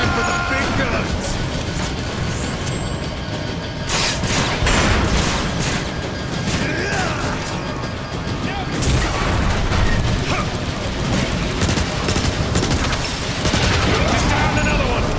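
Rockets and heavy gunfire in Transformers: War for Cybertron, a loud dense stretch of booms, blasts and rapid fire that rarely lets up, with game voices shouting over the battle.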